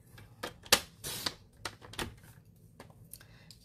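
A paper card being trimmed down to 5 1/4 inches with a cutter or trimmer, giving a quiet run of short, sharp cuts and slides with a few louder strokes, close and alone.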